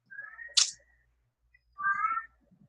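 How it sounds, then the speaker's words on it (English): Somebody's pet cat meows twice in the background, with a short drawn-out call followed after a pause by a longer, wavering meow, both moderately clear against a quiet room. "I can hear somebody's cat meowing in the background"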